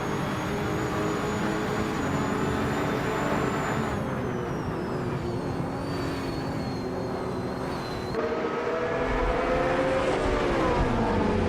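Race cars in a nonstop racing video game roar continuously, engines whining and shifting pitch as they pass, loud and steady throughout with no pauses.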